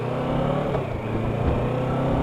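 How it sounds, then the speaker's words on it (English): Steady road noise from a Kawasaki Versys 650 LT motorcycle riding through busy town traffic, with a continuous low engine drone and surrounding vehicle rumble, loud and close with no break. "so lots of traffic today"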